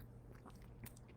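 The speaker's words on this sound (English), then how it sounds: "I'm munching right now because I wanted something a little bit crunchy." Someone bites and chews crunchy plantain chips up close, with a few soft, quiet crunches over about a second.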